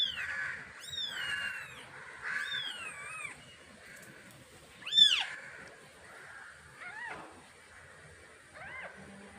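Young kitten, eyes still closed, mewing repeatedly in thin rising-and-falling cries, with one louder cry near the middle and quieter ones after, close by in a quiet room.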